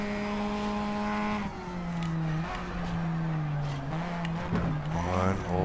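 A stock car in the racing game Shift 2 Unleashed revs and shifts through gears, the engine note climbing and dropping with brief tire squeal, loud and continuous.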